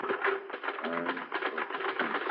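Clattering typewriter keys in an old-time radio drama, a quick run of clicks and a carriage ratchet beneath a speaking voice.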